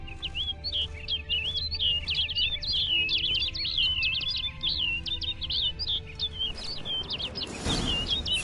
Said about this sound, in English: Looks like the bird's leading me somewhere.